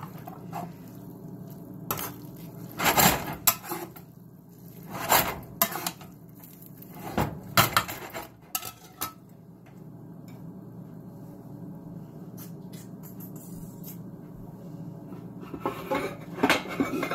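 Utensils scoop noodles out of a pot, giving repeated scraping clanks and stirring knocks in bursts, close and fairly loud against a quiet kitchen background, with no talking.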